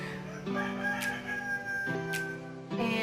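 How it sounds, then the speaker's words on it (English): A rooster crows in long, drawn-out calls with tonal harmonics, a few repeated crows close by and fairly loud, with no one speaking over it. "So I'm sorry for the chicken crowing."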